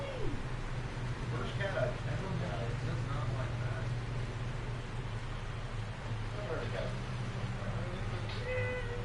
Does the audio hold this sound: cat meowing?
yes